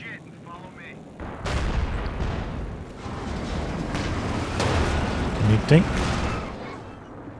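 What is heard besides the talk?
anti-tank gun firing in Company of Heroes 2 video game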